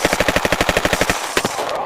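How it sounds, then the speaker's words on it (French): Rapid bursts of automatic gunfire crack out in a fast, steady rhythm for over a second, loud and close, trailing into a scattered final shot, as an action-movie sound effect. "des fusillades"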